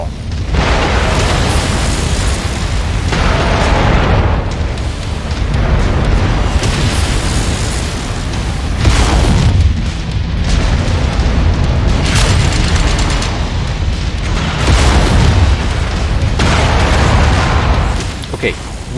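Mech reactor going critical and exploding in MechWarrior 5, heavy booming blasts and rumbling impacts repeating over a dense, continuous barrage of loud game combat noise throughout.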